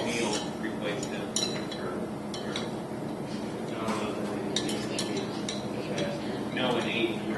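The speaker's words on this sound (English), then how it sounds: "Use the stirring rod to dissolve the citric acid" A stirring rod clinks and taps against a glass container while citric acid dissolves in 300 milliliters of water, with irregular light chinks over a steady background and faint voices nearby.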